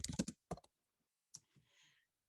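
Fingers tap on a computer keyboard in a quiet room, a quick burst of clicks followed by a few scattered keystrokes and a soft trailing rustle.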